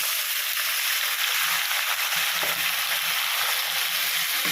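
Tomatoes salted and tossed with curry leaves sizzle loudly with onions in a hot pan for a tomato thokku, a dense, continuous frying hiss with soft stirring scrapes underneath.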